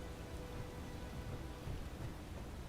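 A lightning storm in Space Engineers: dense, steady rain hiss with a low, continuous thunder rumble underneath, even and unbroken throughout, with no voices.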